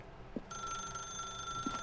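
A telephone ringing in The Stanley Parable, a bright steady electronic ring starting abruptly and sustaining close by, with faint thuds underneath and no voices.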